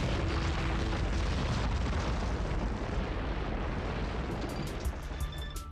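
Deep, continuous rumbling roar of asteroid impacts pounding the Moon's surface, loud and sustained with no pauses, thinning slightly toward the end as faint high tones emerge.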